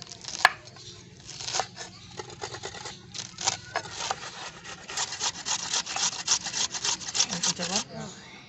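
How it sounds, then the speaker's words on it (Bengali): Spinach is chopped finely with a knife, a close run of rapid crisp taps against a board, irregular at first and then quicker, with a voice speaking faintly underneath. "আমি ততক্ষণে পালং শাক কেটে নেব।"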